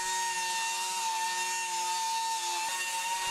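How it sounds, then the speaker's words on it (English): A mini sander rounds over the end of a bent laminated wooden railing, producing a loud, steady, high motor whine that holds its pitch. The whine dips briefly near the end. "With my mini sander, I can round over the end and finish that up with a random orbital sander"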